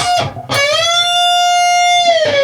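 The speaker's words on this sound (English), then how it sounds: "bend release, but it's 2-step, so it's 4-fret bend." A single electric guitar note bent upward two whole steps, held with a bright sustained tone, then released back down, picked distinctly and played clean and close.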